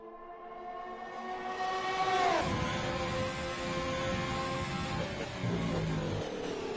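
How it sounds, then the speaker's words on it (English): A racing car in a sim racing esports event at Bahrain or COTA sweeps past with a rising then falling engine whine, its pitch bending sharply downward as it passes, while another engine drones steadily beneath. "Just another car just passing Jordan"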